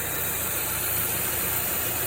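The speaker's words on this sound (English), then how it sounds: "And then there's the B207 turbocharged engine" A Saab 9-3 Aero's B207 turbocharged engine, fitted with a custom cold air intake and silicone hose, runs at a steady idle, a close, even broadband hum with a faint high whine and no talking.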